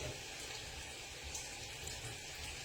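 Water runs steadily from a tap, as if filling a pot or pan for cooking noodles with frozen sauce, with no voices heard.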